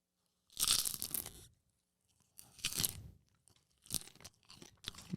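Snacks crunched and munched close to the mic, three loud bursts of crisp chewing separated by short silences, with no talking.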